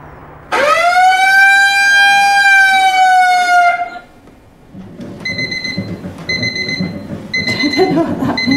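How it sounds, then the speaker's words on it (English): An alarm clock rings loudly in the morning with a sustained electronic tone for about three seconds, followed by quieter intermittent beeping and rustling. "the alarm wakes Julie early to follow Anita's exercise routine"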